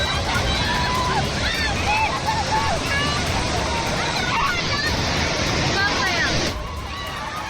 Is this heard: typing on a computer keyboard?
no